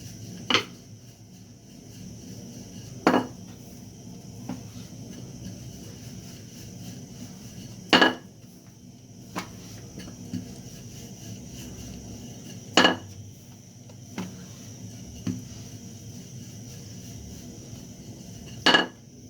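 Chapati dough being rolled into a thin circle with a rolling pin in a home kitchen, a steady low rumble broken by sharp, regularly spaced clacks as the pin knocks the board.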